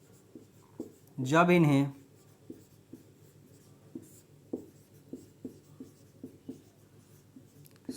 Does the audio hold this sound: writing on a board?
yes